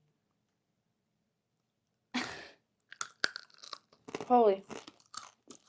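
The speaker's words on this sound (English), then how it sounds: "So it like crunched up like a orange. It's really crunchy." Someone bites into crunchy dehydrated kumquat skin after two seconds of silence, giving a sharp crack and then several close, crisp chewing crunches mixed with brief exclamations.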